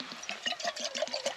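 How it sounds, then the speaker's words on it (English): Water poured into a cooking pot at a winter backpacking camp comes out in quick, rhythmic glugs and splashes, close and fairly soft, with no talking. "I'm gonna set up my pot. I'm gonna put some water in here."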